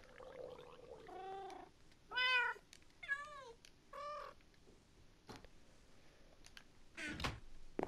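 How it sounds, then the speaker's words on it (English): Several cats meow in Minecraft, a chorus of separate rising and falling meows, some long and some short, spread across the clip at moderate loudness with quiet gaps between them. "It was like a chorus of meows."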